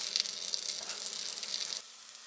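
Hotdog buns frying on a griddle give a steady, close sizzle for about two seconds, then it suddenly drops to a soft, faint hiss.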